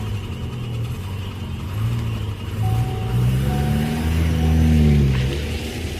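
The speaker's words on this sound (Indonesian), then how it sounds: "aku langsung menancap gas, pergi dari tempat itu" A car accelerates hard as the driver floors the gas, the engine note rising in pitch across several seconds, loud and close, building to a peak near the end.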